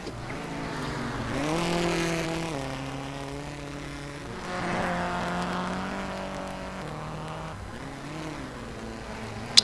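A rally car at a NASA RallyCross Challenge round on a loose course, its engine droning and rising and falling in pitch as it slides through a hairpin. The sound is fairly distant and moderately loud, with no talking.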